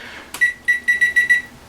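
Beeps from an oven's control panel while the preheat temperature is set, with a single press followed by five quick, even tones, loud and close, with no talking.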